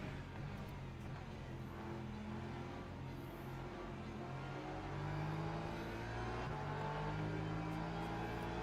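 Hypercar engines race together in Le Mans Ultimate, a dense, continuous roar of several cars accelerating and shifting, steady and loud throughout without talk.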